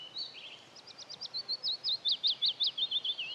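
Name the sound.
willow warbler song with descending note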